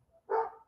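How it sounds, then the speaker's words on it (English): A neighbor's dog gives a single short bark from a distance, a brief muffled burst that quickly fades back into a quiet room. "That's my neighbor's dog"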